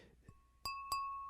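A glass of water tapped twice, each strike a bright ringing ping with clear sustained overtones that hang on after it, preceded by a faint softer knock, all close and isolated.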